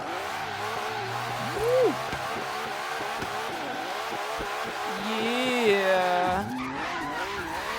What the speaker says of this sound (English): It's like not even drifting, it's just power sliding, man.